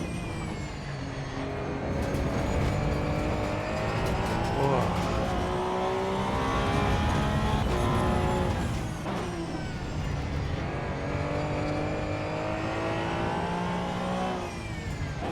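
A car engine in the Assetto Corsa EVO driving game revs and pulls through gears, a loud sustained drone rising and falling with shifts over about fifteen seconds.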